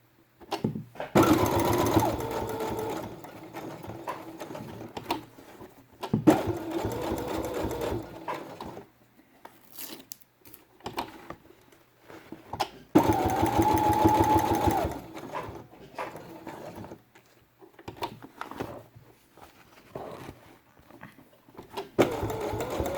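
A sewing machine stitches felt pages for a quiet book in bursts of steady mechanical whirring, several runs of a few seconds each separated by quiet pauses, close and fairly loud.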